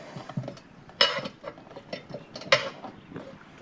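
Steel tire spoons clinking and scraping against a wheel rim while prying the bead of a tubed tire, a series of irregular metallic taps with two sharper clanks, close and alone.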